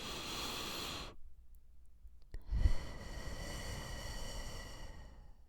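A deep, slow breath taken in and let out near the microphone, a broad airy rush that stops for a moment of near silence and then returns as a long exhale, no talking.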